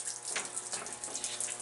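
Seawater sprays in through a patch in the hull of a Fletcher class destroyer, the USS The Sullivans, into a tight space, making a steady, soft hissing gush with small surges.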